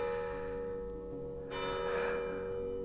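Church bells ring out across the Abruzzo countryside near a detached house, a sustained steady toll that swells louder partway through, with no one speaking.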